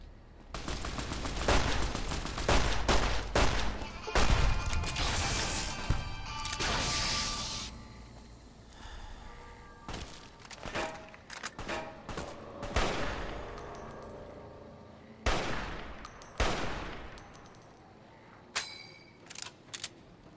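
Rifle fire in Fallout: New Vegas, with dense volleys of sharp, loud shots in rapid bursts followed by sparser single cracks spread over the stretch; no talk.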